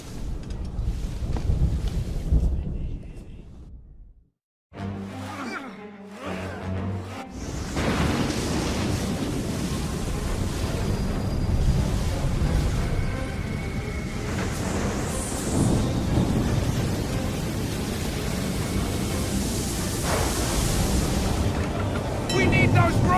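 Stormy sea in Assassin's Creed 3, with a steady roar of wind, rain and crashing waves under a ship at sea, thunder-like rumbles, and voices shouting over it; a brief quiet gap with music near the start.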